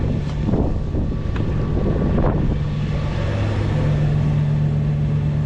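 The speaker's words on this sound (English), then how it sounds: "About 10 knots of wind, pretty light." Wind buffeting the microphone aboard a sailboat under a double-reefed main in light air off Catalina Harbor, a steady, close roar and rumble with a low engine-like drone running underneath.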